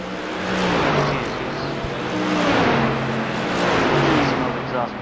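Race cars in pre-season test races roar past in waves, engines swelling and fading as each passes, with a commentator talking over them.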